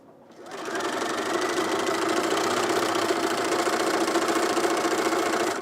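A sewing machine stitches a Songbird top, running steadily and close with a continuous mechanical whir that starts after a brief quiet moment and holds even throughout.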